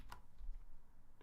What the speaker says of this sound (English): typing in pinyin as quickly as I can